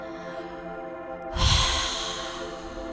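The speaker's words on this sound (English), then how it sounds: "as we breathe out, making our breath very heavy and loud" A single heavy, loud out-breath pushed through the mouth during a yoga session, bursting in suddenly and trailing off into a long breathy hiss, with quiet music continuing underneath and no talking.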